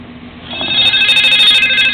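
An incoming-call ringtone rings out loud and close, its bright electronic tones pulsing in a steady repeating pattern.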